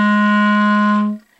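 A clarinet holds a single low B flat, steady and rich for about a second before it cuts off cleanly, alone and close with no voices.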